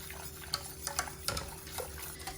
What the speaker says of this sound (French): on mélange bien pour faire diluer la gélatine